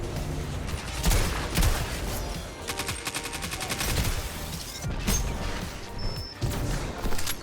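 Rapid gunfire in Destiny 2 during a Trials of Osiris match on the Cauldron map, dense bursts of automatic and single shots, loud and close, repeating throughout with brief lulls and no talk.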